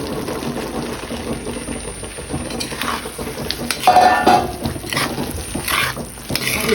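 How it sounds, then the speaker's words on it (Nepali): Spatula scraping and clinking against a pan as fried mushrooms are stirred with spices, with a soft sizzle beneath, the clatter rising in the middle and again near the end. "चलाएर सबै मसला भिज्ने गरेर"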